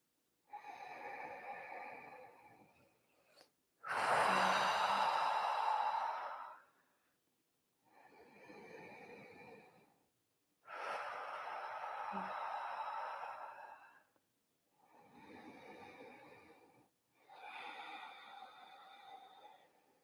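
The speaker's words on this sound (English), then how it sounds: "we're just doing some belly breathing here" Slow, deep belly breaths in a live yoga core class, with long breathy inhales and exhales coming in rounds of a couple of seconds each with short pauses between, heard up close and alone.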